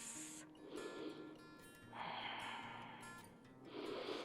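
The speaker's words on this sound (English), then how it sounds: "Deep, even, healing breaths." Deep, even breathing during a yoga class, slow audible inhales and exhales in close succession.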